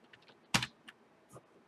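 Keys clack on a computer keyboard in a few irregular taps, one sharp loud strike followed by lighter, scattered presses in a quiet room.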